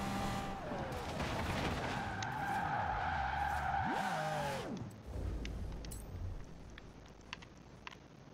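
A Pagani Zonda R racing flat out in Forza Horizon 4, engine note climbing and falling through gear changes with a squeal of tyres, then cutting to a quieter rumble with faint clicks toward the end.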